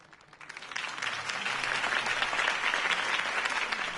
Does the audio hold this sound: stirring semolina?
no